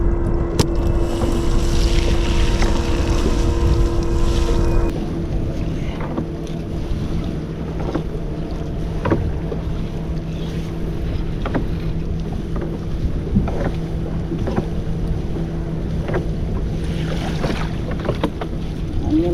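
Strong wind roars and buffets a fishing boat at sea during net fishing for pomfret, a steady dense rush of noise that eases slightly after the first few seconds and keeps blowing with faint knocks and creaks.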